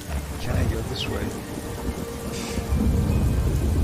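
Thunder rumbling through a storm in the video game Morrowind, a steady low roar with rain over it and a stronger swell toward the end.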